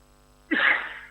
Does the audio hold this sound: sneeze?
yes